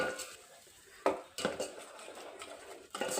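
Ground spice paste stirred into a pot of drumstick-leaf bassaru, with a spoon clinking and scraping against the metal in a few distinct knocks and steady scraping between them.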